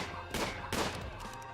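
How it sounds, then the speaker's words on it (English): Gunfire in the video game RimWorld as a colonist shoots an enemy: two loud, close bursts of shots with a sustained noisy tail, no talk. "And we can just walk outside and shoot this one."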